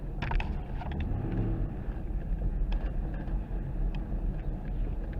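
A car backing up down a city alley at night, a steady low engine rumble with mechanical hum, close and continuous, with no voices.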